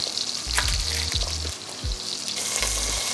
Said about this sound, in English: while our beef is browning